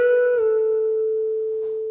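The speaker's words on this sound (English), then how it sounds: "So this note here, I'm gonna be playing a bend and release," An electric guitar plays a single sustained note at the 14th fret of the G string, bent upward and then released back down, ringing clearly and fading slowly on its own.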